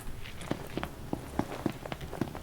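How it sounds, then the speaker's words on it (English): Loud in-game footsteps from a character in Final Fantasy XV, a steady series of about a dozen thudding steps at a brisk walking pace, close and clear over a faint background hum. "I was making some loud footsteps"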